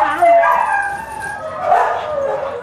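Rescued dogs, aged around nine or ten, at a rescue centre give high, whiny yelps and yips. The calls are close and fairly loud, rising and falling over about three seconds.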